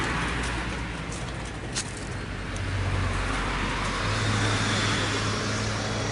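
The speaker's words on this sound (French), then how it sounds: "Waouh, la voiture." A car passes on a street in Japan, a broad steady road rumble that swells toward the end as it nears, with no voices.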